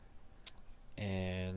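Mouse clicks while modelling and retopologizing a body in Blender: two short, faint clicks, then a steady humming tone takes over.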